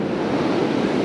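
Ocean surf rolling in on a beach during an incoming tide, a steady broadband wash with wind noise, continuous and fairly loud, no voices.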